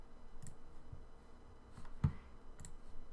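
Computer mouse clicking, a handful of faint, sparse single clicks spaced irregularly, close and alone.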